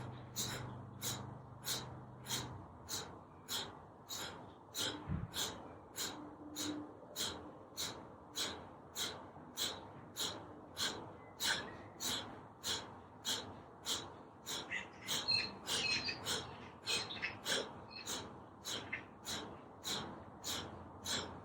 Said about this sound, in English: just breathe out in your own time